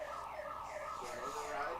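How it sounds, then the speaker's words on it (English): An alarm sounds at the Apple Bowl stadium during a Canadian youth football game, a steady wailing tone held for the whole moment under faint crowd ambience. "I think the alarm is going on here at the Apple Bowl"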